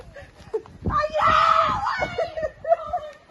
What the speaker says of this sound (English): She doesn't just scream; it's like a shrill